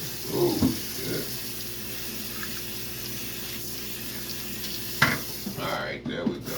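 Hot tap water runs steadily into a sink during handwashing, a continuous close splashing hiss with brief voice sounds and a few knocks over it.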